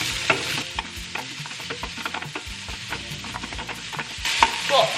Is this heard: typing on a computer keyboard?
no